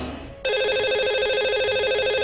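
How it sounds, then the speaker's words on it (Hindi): A telephone ringing as an outgoing call is placed on a live radio show: after a brief quiet lead-in, a steady, loud electronic ring tone starts abruptly and keeps warbling in a continuous repeating pattern. "तो चलिए लगाते हैं इन्हें कॉल और करते हैं इनसे"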